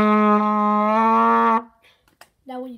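A trumpet holds a steady C note for about one and a half seconds, loud and close, then stops; a short second note begins near the end after a brief pause.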